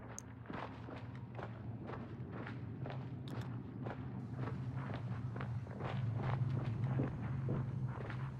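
Running footsteps at 50 meters in the video game Hunt: Showdown: a fast, regular series of soft thuds that sound distant, over a low steady ambient hum, growing slightly louder toward the end.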